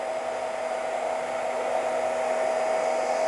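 A hair dryer fitted with a diffuser drying curly hair gives a steady, even whirring rush with a constant motor hum, continuous and unchanging throughout with no voices.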